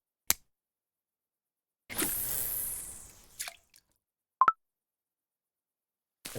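In the Russian Fishing 4 video game, a fishing line is cast and lands in the water, heard as a whooshing hiss, then a short plop and a separate sharp click, alone with silence between.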